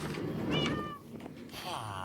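Cats meowing in Minecraft, a few short rising and falling meows close by over a low game background, with one longer meow at the end.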